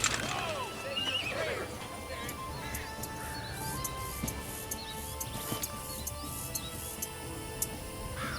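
Horses carrying riders approach with loud whinnies and scattered hoofbeats, close and clear over a quiet outdoor background.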